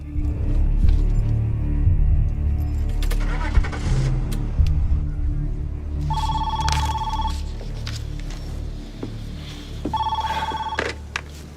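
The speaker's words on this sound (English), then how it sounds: "Start the car. Drive." A car engine runs and revs as the vehicle pulls away and drives, a loud, close motor rumble throughout. A telephone rings in two bursts over the engine noise.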